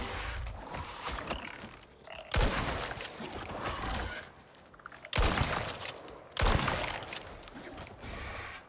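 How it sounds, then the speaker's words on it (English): A shotgun fires in the survival game Icarus, giving three heavy, sharp blasts spaced a few seconds apart over a rumbling, noisy game background. "shotgun."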